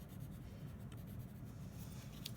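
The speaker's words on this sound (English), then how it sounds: "give yourself a nice artist signature" A black colored pencil scratches steadily across paper while an artist signs a signature on a mounted landscape painting, a close, continuous soft scribbling texture with faint small ticks near the end.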